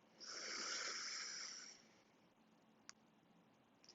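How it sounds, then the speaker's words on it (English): A single deep inhale drawn in through the nose, close and breathy, lasting about two seconds before fading into quiet, with a couple of faint clicks afterward. "So take a deep breath in through your nose."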